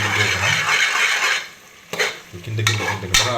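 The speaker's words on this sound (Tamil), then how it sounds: "கொஞ்சம் கிண்டிக்கலாம், கொஞ்சம் கிண்டிக்கிட்டே இருக்கலாம்" Mutton biryani masala stirred in a pot at home, Dindigul style, with steady scraping and sizzling oil, pausing briefly before two sharp spoon knocks against the pot and more stirring.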